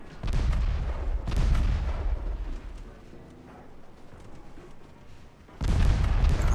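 Heavy naval guns firing high-explosive shells in the Ultimate Admiral Dreadnoughts warship game, loud booming salvos that roll and rumble, a burst at the start and another strong volley near the end with a quieter gap between.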